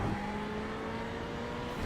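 A Ferrari 488 GT3 race car lapping Spa in a racing video game, its engine holding a steady, loud drone with clear harmonic tones throughout, ending in a slight rise.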